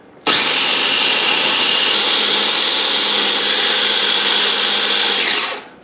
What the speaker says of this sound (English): we are gonna put all that stuff, well, all the stuff you put in the food processor, we're gonna mix it up now